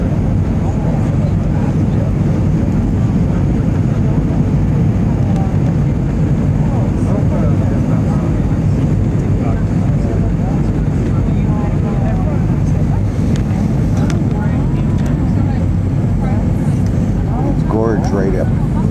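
An airplane in flight gives a loud, steady engine drone that fills the whole stretch without a break, with voices talking underneath.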